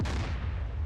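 A naval gun firing in DCS World sends out one heavy, sustained boom with deep rumbling low end that fills the whole short moment, close and loud.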